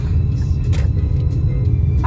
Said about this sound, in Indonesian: Ini jalanan udah mulai macet